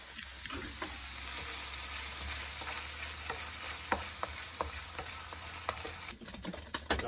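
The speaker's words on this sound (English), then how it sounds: "We're just gonna let this bacon go. Let it cook, brown it," Bacon sizzles and crackles steadily in a pan, a constant close hiss with scattered sharp pops and spits, and a utensil scrapes the pan near the end, no talking.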